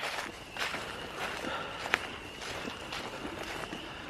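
Footsteps crunch at a steady walking pace on a hillside campground trail, each step soft and close, with one sharper snap near the middle.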